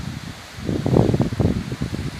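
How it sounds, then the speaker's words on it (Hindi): Strong wind sweeps through foliage on a mountainside, rising into gusty rustling bursts that swell and fade, fairly close with no talking. "तेज हवा भाई"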